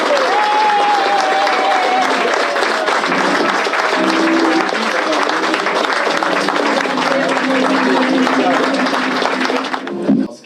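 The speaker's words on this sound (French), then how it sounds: "je vous demande d'y faire une véritable ovation" A crowd at a 2008 municipal election rally in Agde applauds and cheers loudly for Fabrice Mur, with sustained clapping nearly throughout before it tapers off at the end. A voice can be heard over the applause.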